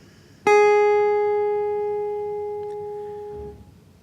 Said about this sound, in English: we'll use our fourth finger or pinky on the fourth fret of the first string.